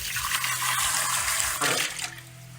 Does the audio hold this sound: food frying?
no